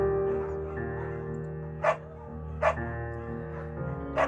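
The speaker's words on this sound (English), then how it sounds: "Buckets is a good dog" In the game Firewatch, a beagle named Buckets gives three short separate barks spaced about a second apart, over a sustained musical backdrop.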